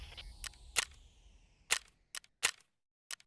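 Sharp, cracking gunshots ring out in Escape From Tarkov, several separate snaps spaced irregularly over a few seconds, some louder and nearer, with brief silent gaps between them.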